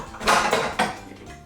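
Thick batter is scraped out of a mixing bowl into a 9 by 9 inch baking pan, giving a few close, quick scraping and clinking strokes of utensil against bowl, with no talk.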